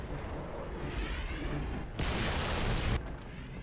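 A Wraith tank fires heavy plasma blasts in Halo 3, giving a roaring, rumbling wash with a louder burst of explosion noise midway and no voices.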